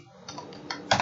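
Short burst of typing on a computer keyboard, a few scattered keystrokes building to a louder cluster of clicks near the end, close and clear with no talk over it.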